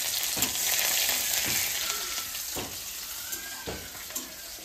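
Garlic sizzles in hot oil alongside black cumin and bay leaf for a Bengali lentil dal, a steady bright hiss with soft periodic stirring scrapes.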